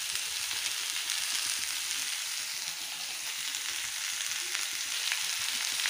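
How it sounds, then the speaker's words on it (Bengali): Ash gourd pieces sauté in a hot pan tempered with kalonji (nigella seeds), giving a steady, bright sizzle and crackle that continues unbroken throughout. "এবার চাল কুমড়োগুলো সবগুলো একসঙ্গে সাঁতরিয়ে নেব।"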